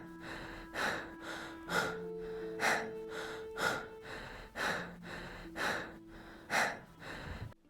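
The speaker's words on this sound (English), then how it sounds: "it's just Henry on screen just standing there getting tired, breathing super heavily from doing nothing" The character Henry in the video game Walden breathes heavily in a steady rhythm, about eight loud, close breaths of alternating in and out gasps, alone under a faint background tone.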